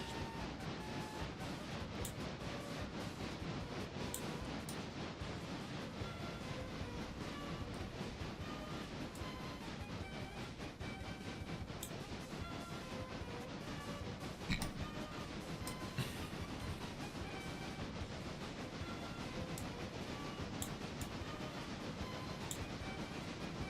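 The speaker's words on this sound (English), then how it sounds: "finally, first run with the passenger locomotive" A video-game passenger locomotive runs along the track, producing a continuous dense rumble and rattle with faint clicks and a slight louder knock midway, steady throughout with no talk.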